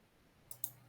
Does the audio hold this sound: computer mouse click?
yes